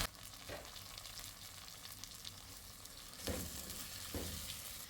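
Tomato and green chillies fry in a pan with a steady, dense sizzle, broken by a few scraping stirs of a utensil partway through and near the end.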